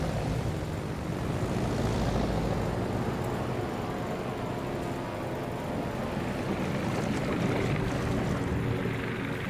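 Aircraft engines drone steadily overhead in a World of Warships naval battle, a continuous broadband roar with a gentle swell and fade as rocket planes pass.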